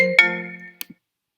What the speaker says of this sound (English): my phone is quacking at me.